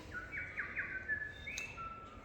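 A single bird calls alone in a short burst, a few quick high chirps and a thin whistled trill, clear and fairly close over a low steady background hum.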